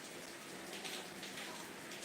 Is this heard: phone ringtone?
no